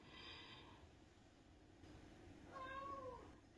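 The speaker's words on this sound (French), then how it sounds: "Ma chatte peut miauler par contre." A female cat lets out a faint meow near the end, over a low rumbling background hum.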